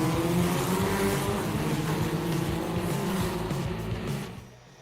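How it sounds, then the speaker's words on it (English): IAME Senior X30 racing karts at Whilton Mill howl with loud, continuous high-revving engine buzz from several machines together, the roar holding steady before dropping away in the final second. "The engine revs come on as we go racing again here at Whilton Mill, and it's the Senior X30 final"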